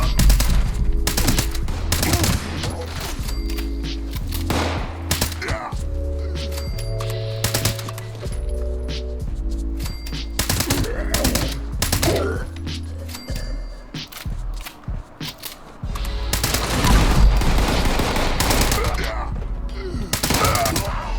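Bursts of Fallout 76 gunfire crackle almost nonstop, loud rapid shots and automatic volleys piling up with short breaks, while a voice talks over the shooting.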